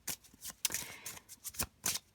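A Petit Lenormand card deck being shuffled and cut, with a series of quick riffling bursts, close and quiet, in an irregular rhythm.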